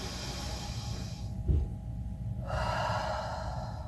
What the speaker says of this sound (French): On va prendre une grande respiration.